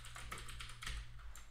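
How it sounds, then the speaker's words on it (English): Computer keyboard typing, quick irregular clicks of keys pressed in short bursts, faint and close over a low steady hum. "I'm actually just typing this to type it"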